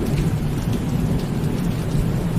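A thunderstorm fills the space with dense steady rain and a low, continuous rumble of thunder beneath it, loud and unbroken from start to finish.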